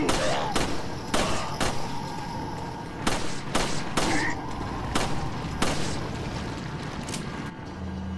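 Shotgun blasts in Resident Evil 4 ring out as about nine loud, sharp shots in an irregular rhythm, with reverberant tails and a low background drone between them.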